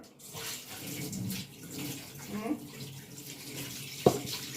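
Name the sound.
water from the heater being poured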